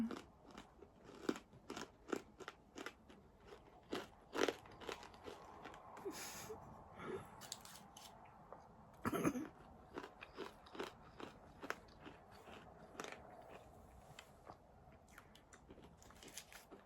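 Close, crisp bites and steady chewing on a frozen strawberry chew candy, with repeated crunches and crackles spread irregularly over about seventeen seconds, fairly quiet overall with one sharper bite standing out midway.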